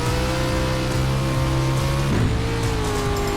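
Race car engine in the iRacing sim on a dirt road, droning steadily with wavering throttle and a brief dip and re-rise in pitch midway, loud and close with no talk.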